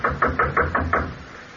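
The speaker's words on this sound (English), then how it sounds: "Knock on the door, Abner." Six firm knocks on a wooden door in a radio drama, evenly spaced and close, each sharp rap fading quickly before a brief quiet tail.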